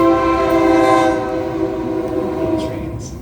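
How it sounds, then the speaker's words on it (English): A train passes close by with a loud, steady horn-like tone and the rumble of rail cars underneath, holding for the whole stretch before fading slightly. "Trains."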